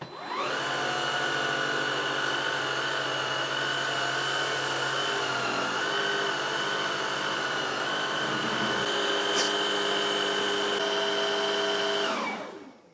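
A Dreame Z30 cordless vacuum with its soft hard-floor brush, running in automatic mode, gives a steady, close whine with a high tonal hum that holds level for about twelve seconds and then winds down.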